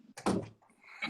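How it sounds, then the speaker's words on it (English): A door is pushed shut with one solid, close thump, followed by quieter room noise as it settles. "Let me shut this door"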